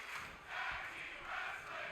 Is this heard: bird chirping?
no